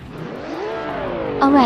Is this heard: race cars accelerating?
yes